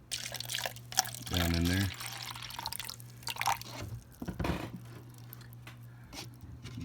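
Water poured by hand into an empty plant pot, a brief splashing trickle near the start followed by soft drips, with a person talking over and after it.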